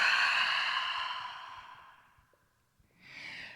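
A deep, drawn-out breath during a yoga flow starts strong and fades over about two seconds, followed by a quieter second breath after a short pause, close and soft.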